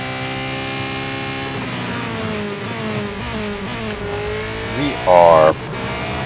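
Porsche 919 Hybrid Evo race car in Real Racing 3 held at full throttle, a loud sustained engine drone with shifting pitch and a brief higher whine near the end, while someone talks over it.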